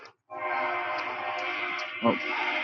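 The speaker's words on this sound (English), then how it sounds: "there's that morning train" A morning train heard from indoors, a sustained horn-like tone holding steady for a couple of seconds with a low rumble beneath and a brief thump near the end.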